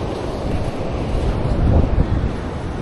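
Big ocean waves at Canimog Island churn in a loud, close, continuous wash of surf, heavily buffeted by gusting wind across the microphone, with a few heavier surges near the end.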